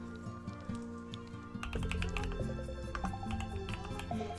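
Typing on a computer keyboard: quick, light irregular key clicks close up, layered over background game music with a fuller musical section starting partway through.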